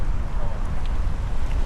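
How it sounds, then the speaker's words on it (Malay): Strong wind gusting across a microphone outdoors on a city walk in Sydney, a continuous low buffeting rumble that stays loud and steady throughout. "angin kuat sikit"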